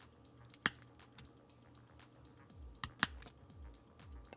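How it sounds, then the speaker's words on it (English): Plastic kitbash part being snipped off a Master Grade Freedom Gundam 2.0 model kit, with two sharp clips about two seconds apart, close and crisp, amid quiet handling noises. "I think what I might try doing is just cutting off this bottom"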